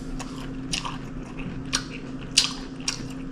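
Crunchy chewing and lip smacking while someone eats green beans, close to the mic, with several sharp crisp bites and wet smacks spaced irregularly over a low steady hum.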